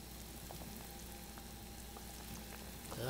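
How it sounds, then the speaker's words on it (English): A caramelized pork belly braise with eggs and star anise boils at a rolling boil, a low, even bubbling and faint sizzle with scattered soft pops, steady and quiet throughout. "so here we are at a rolling boil, and I'm going to let this roll for about a minute or two"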